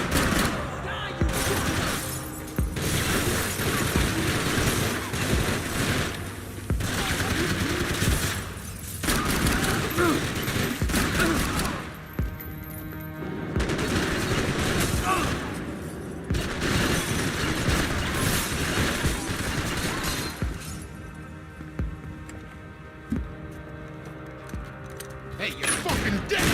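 Dense gunfire in the video game Max Payne 3, with rapid bursts and repeated shots forming a loud, sustained firefight, broken by brief lulls, while voices shout over it.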